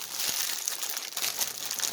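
Plastic packaging around a silk cross stitch kit crinkles and rustles as it is opened by hand, a quiet, continuous crackling with small irregular pops and no talking.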